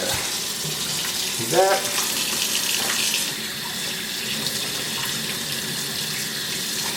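A sink faucet runs steadily as ribs are rinsed under the stream, with a brief splashing burst early on and a short spoken remark over the flowing water.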